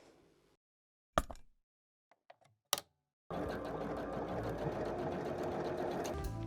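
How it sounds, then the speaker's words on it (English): Sewing machine stitching the shoulder seams of a summer top, a steady continuous whir after a few short clicks and taps, close and fairly loud. "here I am pinning them together and then sewing the seam"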